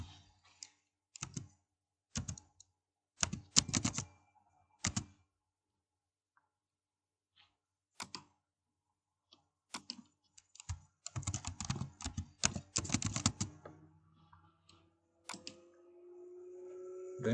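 Keystrokes on a computer keyboard while a title is entered, clattering in short irregular bursts with quiet gaps between them, close and fairly soft, with no voices.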